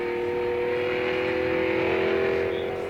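A 1959 Alfa Romeo Giulietta SV accelerating along a road in Sicily, its engine a loud, steady, rising drone heard from on board without pause.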